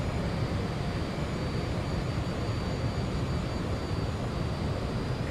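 A simulated Ansett Fokker 28 airliner roars steadily on final approach to Hobart's runway 30. The jet engine noise is a continuous, broadband rumble and whine at an even level, heard alone with no talking.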